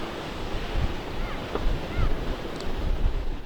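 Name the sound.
ocean waves crashing on the North Carolina shore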